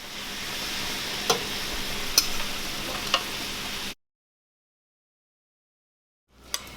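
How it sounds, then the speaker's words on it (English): Fajita ingredients sizzle on a small hot skillet griddle, a steady hiss with a few sharp clicks and taps for about four seconds before going silent. "So I'm about to heat up my skillet, my little griddle here, and throw these on"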